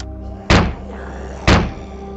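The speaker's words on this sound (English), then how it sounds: "The zombies are banging on my door." Zombies banging on a door in the video game Terminus: two heavy, booming thuds about a second apart, loud and close, with no talk.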